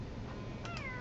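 A pet cat gives a short meow close by, a single rising-then-falling cry near the end, over a steady low background hum.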